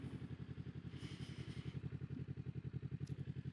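A motorcycle rolls over pavement scattered with gravel, its engine pulsing in a steady rapid rhythm with light crunching and clatter on top, heard close but fairly quiet.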